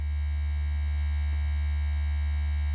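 Teenage Engineering OP-1 synthesizer sustaining a single latched D note, a steady unchanging tone with low hum, held alone without any talk.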